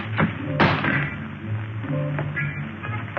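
Weapons dropped to the ground in a 1953 Flash Gordon sci-fi scene: a few brief thuds and taps, one sharp clunk standing out, over a steady background hum.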